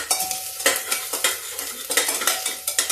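Garlic, chili and ginger frying in a pan for mung dal, with loud, close sizzling cut by repeated scraping strokes of a spoon stirring at a steady rhythm, no voices.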